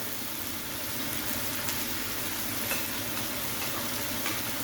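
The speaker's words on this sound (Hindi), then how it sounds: "उसके बाद इसमें मैं अदरक लहसुन और मिर्चों की पेस्ट शामिल करने लगा हूँ।" Ginger, garlic and chili paste hisses and sizzles in a pan of light golden fried onions for a chicken biryani pulao, a steady dense crackle without talk.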